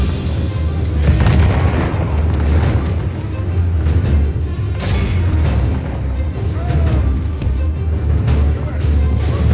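Irish gunpowder weapons fire in a Medieval II Total War: Kingdoms battle, with dense, loud booming blasts rolling over one another in a continuous barrage.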